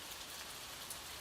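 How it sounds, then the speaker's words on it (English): Rain patters gently outside, a soft even hiss of drops on a surface, faint and continuous with no voices. "let the gentle patter of rain outside soothe your mind"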